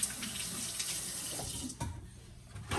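Fingers being rinsed under a running kitchen tap while making sourdough, a steady close splash of water that shifts briefly as the hands move, with a single word spoken faintly.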